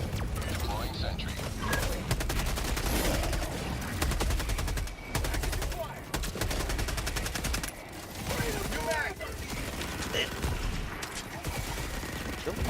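Rapid automatic gunfire from a deployed sentry turret in Helldivers rattles almost continuously, with dense bursts, mechanical clatter and brief pauses, loud and close amid the game's battle noise.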